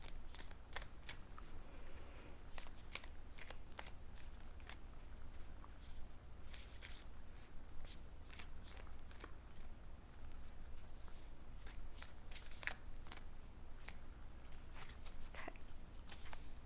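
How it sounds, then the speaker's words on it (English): Moon Oracle cards shuffled steadily by hand, a long run of soft, close flicks and riffles in uneven bursts against quiet room tone, with no voices. "I'm going to pull a Moon Oracle card for your person."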